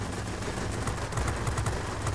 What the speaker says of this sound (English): Pretty hard hitting guns.